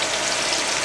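Onions and garlic sizzle steadily in a hot pan, giving an even, close frying hiss with no break.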